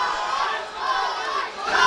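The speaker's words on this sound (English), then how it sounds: "The crowd certainly here is rooting for Khashakyan" A roaring crowd at an MMA fight in a fighter's home arena, steady and loud throughout with swells of cheering and shouting, no clear single voices standing out.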